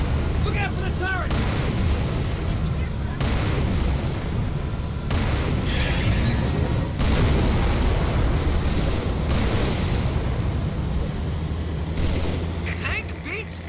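Tank cannon blasts and heavy explosions from Halo 3 boom again and again over loud, dense battle noise with rumbling mechanisms, with a voice talking over parts of it.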